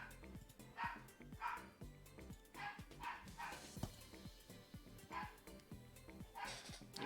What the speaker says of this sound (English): Angry little dog outside.